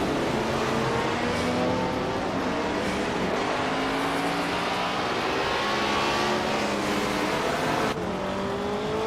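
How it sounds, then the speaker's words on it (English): 1970 McLaren M6 GT race car at speed, a loud continuous engine roar with rising and falling pitch as gears change, a sharp shift near the end, no voices. "Scuderia Veloce is running a 1970 McLaren M6 GT, currently in 4th place."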